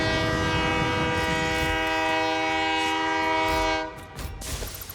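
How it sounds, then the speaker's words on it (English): In the video game Satisfactory, a train's horn is stuck on. It gives a loud, sustained, chord-like blare for about four seconds, then cuts off, leaving faint rumbling and brief noises. "Train got its horn stuck on because I held it as I jumped out."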